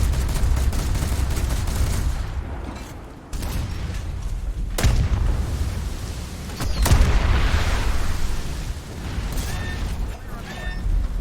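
Rapid-fire naval guns on a ship in War Thunder, heavy booming bursts of cannon fire rolling into one another with a few sharp standout blasts over a constant rumbling battle din.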